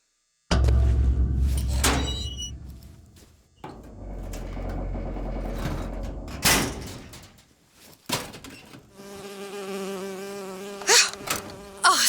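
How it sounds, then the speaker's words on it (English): Insect buzzing from a bee in the video game BioShock Infinite, a steady droning hum through much of the clip, with door-like clunks and shifting game sounds around it and no talk. "Oh, it's a bee. I hate these things."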